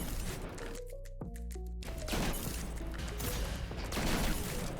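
Shotgun blasts in the video game Destiny 2 after a quick weapon swap: several sharp, booming shots over about five seconds, mixed with in-game mechanical clatter and tones.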